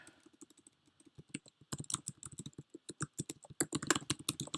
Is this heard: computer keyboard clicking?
yes